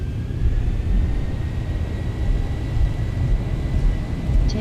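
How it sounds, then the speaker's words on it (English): Airliner jet engines in a flight simulator hold a steady low rumble with a faint whine above it as thrust comes up for takeoff from a runway, the drone continuous and fairly loud. "Takeoff thrust set."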